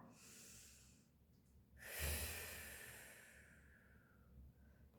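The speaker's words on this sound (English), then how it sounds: "Breathing in and out." Slow, deep breathing during a guided exercise, heard close and soft: a long breath swells, peaks near the middle, and fades gradually, with a faint quieter breath toward the end.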